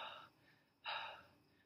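A voice imitates being out of breath from running: two close, breathy pants, a short one and then a louder, longer gasp after a brief pause.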